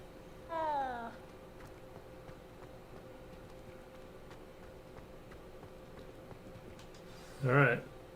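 A cat in the video game Hogwarts Legacy gives two short meows, one near the start and one near the end, against a quiet steady background hum, with no talk in between.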